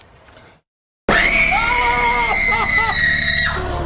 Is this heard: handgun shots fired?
no